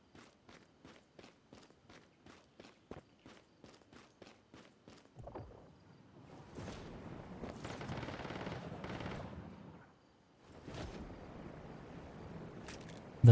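Gunfire in the video game Once Human, a steady series of evenly spaced single shots for about five seconds, followed by louder sustained bursts and noisy rattling, with a pause before a final stretch.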